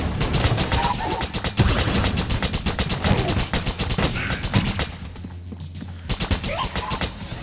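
A rapid-fire gun in Enter the Gungeon rattles off dense, evenly spaced shots in long bursts, pausing briefly near the end before firing resumes, with other game effects underneath.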